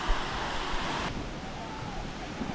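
A waterfall near Sapa in northern Vietnam gives off a constant, full rushing roar of falling water, steady from start to finish with no voices.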